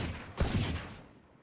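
A single burst of gunfire in Valorant, shot through a wall, hits hard and then fades into a dull rumbling tail, with no other sound around it.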